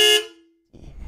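A car horn gives one short, loud, bright honk that rings off quickly, and a low rumble of traffic follows.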